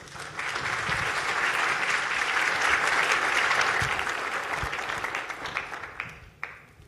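An audience applauds to welcome a speaker at a health information policy event, a sustained wash of clapping that swells, holds for several seconds, then thins to scattered claps and fades.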